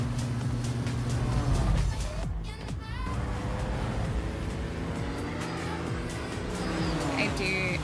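Porsche engine from the Forza Horizon 6 racing game, a loud, steady motor drone with shifting pitch that runs throughout under a talking voice, with a brief dip in the middle.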